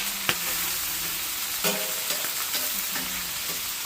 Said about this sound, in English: All we're doing now is cook them till the brandy